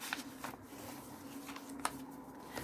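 Paper scraps being trimmed, probably with scissors, for a handmade notelet: a few soft snips and crisp paper rustles spaced across a steady low background, close and fairly quiet.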